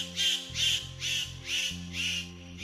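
A Superb Bird of Paradise calling, five loud harsh rasping squawks in an even rhythm, close, over a faint low hum.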